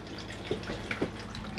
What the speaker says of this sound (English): press the blue button, which is a freshwater supply for the flush